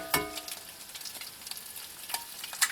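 Two eggs fry in hot bacon grease in a pan over an off-grid homestead stove, giving a steady crackling sizzle with sharp pops and spits throughout, close and unaccompanied by talk.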